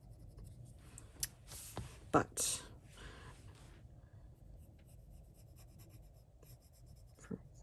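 Arteza colored pencil scratching across smooth paper while laying down blades of grass in layers, a faint dry rubbing with a few sharper strokes, mostly quiet and partly beneath a speaking voice.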